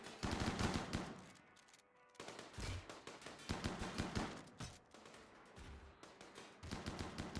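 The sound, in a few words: chain shotguns firing in the video game RimWorld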